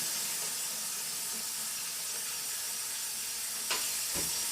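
Eggs steaming in a pan, a soft, steady hiss that continues unbroken, faint and close, with a couple of small clicks near the end.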